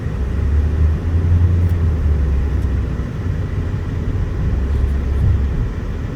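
Steady road traffic on A1A along Fort Lauderdale Beach, a continuous loud low rumble of passing cars and engines with slight swells as vehicles go by, no voices.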